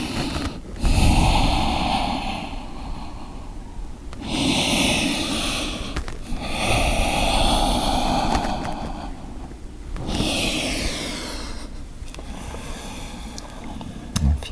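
Slow, audible breaths, with the exhale marking a forward bow in a yoga session, come in several long swells separated by quieter pauses, close and breathy with no talking.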